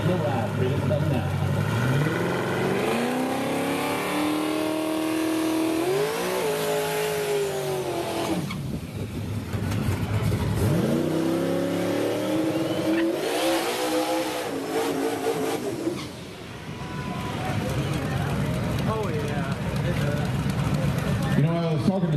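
Drag racing trucks, a Chevy S10 shop truck among them, launch and accelerate hard down a strip, engines roaring loud and close with rising revs and tire squeal, while a commentator talks over the noise throughout.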